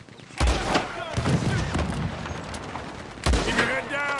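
A Gatling gun fires in a Red Dead Redemption shootout, loud booming volleys at the start and again near the end, with sharp gunfire and voices in between.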